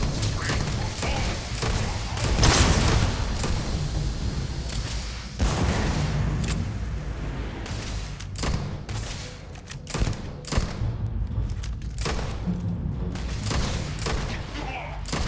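Repeated gunfire bursts in the video game Starfield, sharp shots and volleys scattered over a steady background rumble, with a voice speaking in between.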